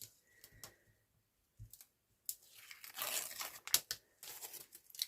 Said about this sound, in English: I'm going to take the tape off the top part